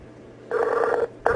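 A telephone rings out on an unanswered call, one steady electronic ring burst followed by the start of another, clear and mid-level.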